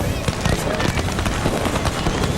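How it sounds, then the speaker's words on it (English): Fireworks crackle and pop in a dense, continuous barrage over the roar of a stadium crowd at a college football bowl game at Walt Disney World, with a voice talking over it. "Fireworks every night at Disney."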